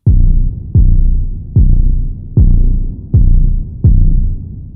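Six soft cinematic kick drum hits with a filtered slam layer, each a deep booming thump that decays slowly, spaced evenly about three quarters of a second apart, loud and alone.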